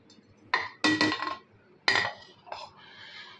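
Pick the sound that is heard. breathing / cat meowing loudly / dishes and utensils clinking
dishes and utensils clinking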